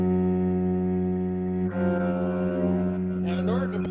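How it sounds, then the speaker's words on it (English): A cello plays a sustained low note, rising to an F sharp on the C string, with the bowed tone steady and close; a voice briefly speaks near the end. "Okay, and then I'm going to come up to an F sharp."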